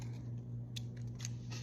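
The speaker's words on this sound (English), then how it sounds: "So grab your scissors" Scissors snip a small piece of tape, with a few quick, close cuts over a steady low hum and no talking.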